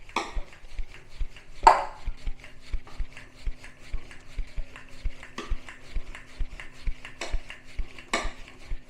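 Moringa paratha dough being rolled out with a rolling pin in a home kitchen, giving soft repeated thumps and rolling strokes at a steady rhythm, with a few sharper clinks of utensils between them and no talking.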